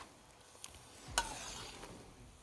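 Meat stewing with tomatoes in a kazan gives a quiet, steady simmering sizzle with one brief clatter, close and faint.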